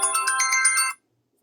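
A mobile phone ringtone bursts out loud and close, a bright melodic run of rapid repeating chime notes lasting about a second before cutting off to silence.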